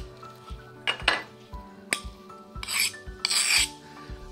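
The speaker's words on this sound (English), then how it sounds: "I rub the edges against each other to take off the sharp edges off the glass" Two cut pieces of stained glass rubbed edge against edge to take off sharpness, giving close rasping scrapes and light clinks in short bursts over a steady low hum.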